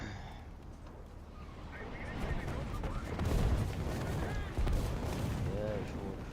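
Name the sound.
artillery and machine gun fire in War Thunder video game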